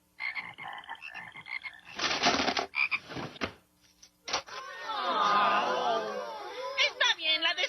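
Frogs croaking from a biology class drawer, a busy mix of raspy croaks and chirping calls with bursts of noisy clatter, loud and close, with a voice talking at moments.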